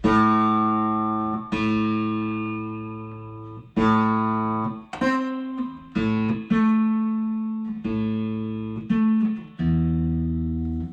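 Single plucked notes on the strings of an ES-335 style semi-hollow electric guitar, each string clamped at the 12th fret for pre-tuning. The notes ring one at a time, close and clear, with no talking.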